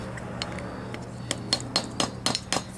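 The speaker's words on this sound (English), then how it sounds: "Tap it to make sure the snap ring is fully seated" A punch is tapped against a snap ring on a Jeep YJ U-joint, giving a quick series of light, close metallic clinks that grow more frequent toward the end over a low hum.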